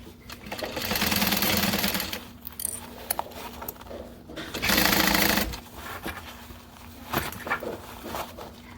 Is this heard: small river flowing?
no